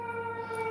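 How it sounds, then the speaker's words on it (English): An ambulance siren on a city street in Chicago, a steady faint tonal wail held throughout a very short stretch, distant and without talk. "since the last ambulance that came down the street"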